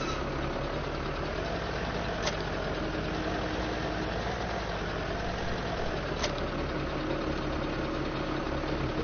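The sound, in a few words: tractor engine running in Farming Simulator 17 video game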